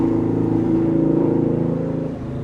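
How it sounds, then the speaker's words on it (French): A motorcycle passes by outdoors, a steady buzzing engine drone that swells and then fades as it moves away, heard on its own without speech. "Attends, il y a une moto qui passe."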